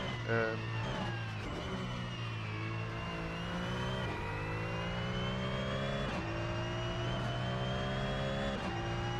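Porsche 911 GT3 Cup race car in Assetto Corsa, the flat-six engine revving hard through gear changes with rising and falling whine, over someone talking.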